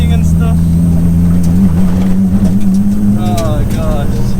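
Steady, loud engine drone from a built 700BHP Nissan R33 Skyline GTST with a loud exhaust, its pitch wavering slightly as the car is driven, with faint chirps and whines above it and no talk.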